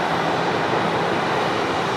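Airplane taxiing past at Sydney Airport, a steady loud broadband engine roar and whoosh that stays constant and close throughout with no voices.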